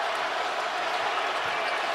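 A basketball arena crowd in Omaha roars and cheers in celebration during a Creighton home game against UConn, making a dense, sustained wall of noise with no breaks.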